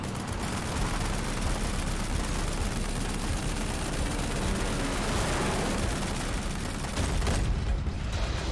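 Dense, sustained gunfire and booming explosions from the stealth action game Metal Gear Solid V: The Phantom Pain, loud and continuous without pause, a packed battle din filling the whole stretch.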